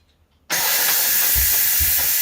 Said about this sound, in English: Manual release occurs when you press the steam release button.